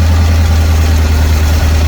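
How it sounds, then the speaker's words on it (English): Jeep engine idling steadily up close, a loud continuous low rumble with an even, unbroken drone throughout. "Now the engine's running. Try to get the idle right."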